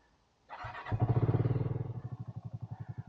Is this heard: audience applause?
no